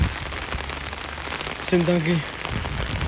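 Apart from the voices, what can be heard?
rain falling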